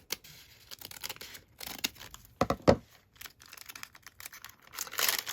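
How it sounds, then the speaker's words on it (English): Scissors cut off the edge of a paper bag, with sharp, close snips and crinkles coming in uneven bursts and a louder run of cuts near the middle. "Then the next thing here is you would cut off the edge of your bag."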